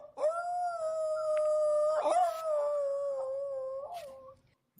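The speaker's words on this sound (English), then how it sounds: "y'all go ahead and give me a dog cry because now he's out of the doghouse." A single dog howls in one long sustained wail lasting several seconds, rising slightly and wavering before trailing off, loud and close with no talk.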